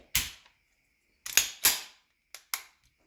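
An unloaded pistol, a 1911 or CZ 75 compact, has its slide racked and worked; sharp metallic clacks come close and crisp, a pair then a quick series of shorter snaps, with silence between and no talking.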